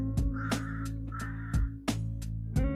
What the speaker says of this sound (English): There's a random crow that's hunting me again.